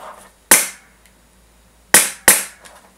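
A Wolverine SMP airsoft gun fires three single semi-auto shots, sharp loud pops with short decays, one alone and then a quick pair near the end.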